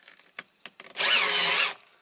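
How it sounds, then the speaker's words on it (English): A power drill spins a Corgi Toys Fiat 1800 toy car wheel for polishing, a short close burst of whirring lasting under a second, preceded by a few faint clicks and taps of handling. "that will turn with the drill"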